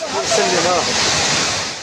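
Floodwater rushes loudly through the streets of Safi, Morocco, a continuous roaring wash of churning water with wind-like noise and no breaks.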